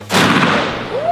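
One loud, close gunshot fired at a shooting session cracks sharply and rolls into a long, booming echo that fades over about a second.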